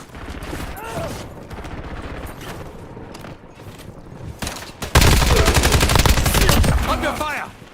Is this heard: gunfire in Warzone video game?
yes